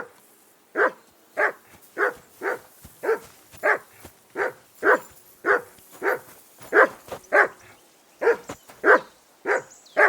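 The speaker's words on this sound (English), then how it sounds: "That barking was a pain in the ass." A dog in Kingdom Come: Deliverance 2 barks repeatedly, about twenty sharp, evenly spaced barks in a steady rhythm, loud and close, with no talk over them.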